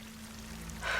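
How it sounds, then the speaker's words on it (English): A waterfall in the video game Horizon Forbidden West makes a soft, steady rushing hiss that swells louder in the final moments, with a low hum underneath and no voices. "That waterfall must be coming from somewhere"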